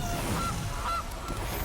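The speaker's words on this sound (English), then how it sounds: "Honk, honk." Goose honking from the Golden Goose card in the MTG Arena card game, two or three short nasal honks spaced about half a second apart over low game background sound.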